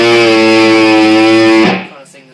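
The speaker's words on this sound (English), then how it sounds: "it'll make that kind of sound as if you've got a Hawaiian guitar" Electric guitar on an open A string, its neck bent to warp the pitch into a wavering, Hawaiian-style slide, loud and sustained with effects before cutting off abruptly.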